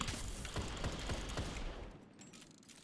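Video game weapon fire while fast-swapping between a shotgun, a sniper rifle and the Last Word hand cannon: a loud, dense volley of rapid shots in a quick rhythm, then a fading tail into near silence.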